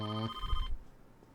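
A video game telephone in Persona 4 Golden gives one short electronic ring, a clean tonal burst that cuts off quickly, followed by faint low rumble and quiet room noise.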